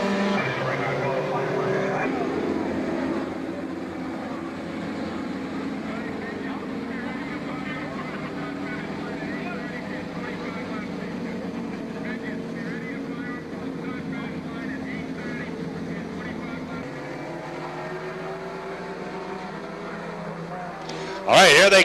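Stock cars on an oval speedway drive under a yellow flag before a restart, their engines a steady roar with a rising and falling drone. A race announcer talks over the engines throughout.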